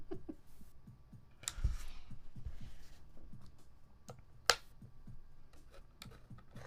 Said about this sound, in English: This keyboard's killing me right now.